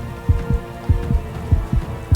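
A heartbeat from the video game Eclipse 2 Invasion of Darkness thumps in low, paired beats, repeating steadily about every half second. It is fairly loud and heard alone, with no talking.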